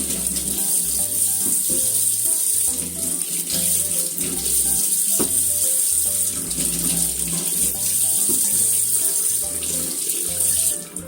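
Tap water runs steadily into a kitchen sink while cucumbers are washed for wasabi pickles, a loud continuous splashing stream with faint handling knocks underneath throughout.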